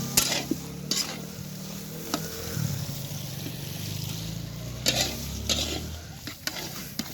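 Meat fries in a pan at an outdoor picnic with a constant hissing sizzle, broken by occasional scraping and stirring clatters.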